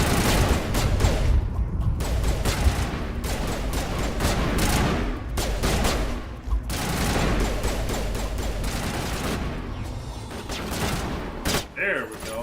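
Gunfire in a video game: dense, sustained bursts of rapid shots and booms, loud and nearly continuous, with short lulls and voices mixed underneath.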